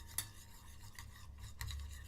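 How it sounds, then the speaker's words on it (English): A spoon stirs and scrapes lemon juice and seasonings together in a bowl, a steady, soft rasping with a few brighter clinks against the side. "So then you mix all those up"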